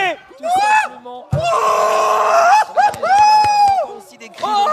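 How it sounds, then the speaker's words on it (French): Shouts and cheers of joy burst from excited players at the ZLAN gaming event, several loud overlapping whoops and yells close by, rising and falling in quick waves. "Aussi des cris de joie."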